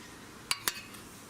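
Utensils scrape a serving dish while chicken sausage and peppers from a griddle are served up, giving two quick, bright clinks close together and then quiet.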